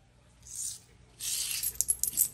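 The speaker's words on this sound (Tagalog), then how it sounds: "lalagyan ko ulit ng barya po dyan" A coin laid down again at a lucky spot, heard as soft scraping followed by a few small bright metallic clicks, quiet and close, with no voices.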